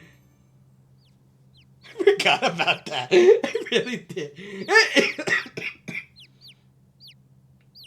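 Birds squawk and cluck in The Great Ace Attorney video game, a jumble of harsh, clipped calls for several seconds, partly overlapped by a person talking.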